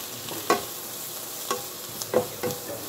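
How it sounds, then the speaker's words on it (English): Onions sauté in real butter in a pan, a soft continuous sizzle broken by occasional scraping stirs close by. "I love the smell of onion sauteing."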